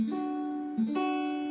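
Acoustic guitar string pressed firmly against the fret and plucked, giving a clean sustained note that rings clearly, briefly cut off and then picked again for a second bright, ringing tone.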